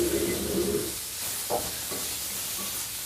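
Tofu fries in a hot wok with a loud, steady sizzle for about a second, then settles into a softer hiss with a few faint clinks.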